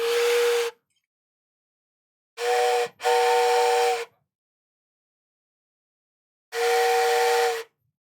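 A steam train whistle sounds as a Twitch hype train alert, three loud separate blasts plus one with a brief break in it, each a steady, breathy multi-tone hoot, heard alone with silence between them.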